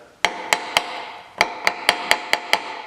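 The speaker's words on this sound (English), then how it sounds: "use the handle of my mallet here just to fine tune this a little bit" Sharp wooden taps from the handle of a mallet fine-tuning a hand-cut dovetail joint, ten crisp strikes in two uneven bursts, close and fairly loud with quick decays and no talking.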